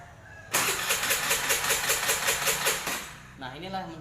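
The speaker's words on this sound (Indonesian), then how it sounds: "Walaupun berbunyi, maka sepeda motor ketika distarter tidak akan menyala" A motorcycle starter with an anti-theft device engaged cranks steadily for about two and a half seconds in a loud, even, rapid pulsing whir without the engine catching, then stops, followed by faint wavering tones.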